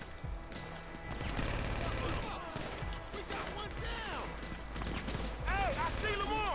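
Rapid bursts of gunfire in GTA 5, a dense clatter of repeated shots and impacts rising after a quieter start, with whistling ricochet-like tones near the end, fairly loud throughout.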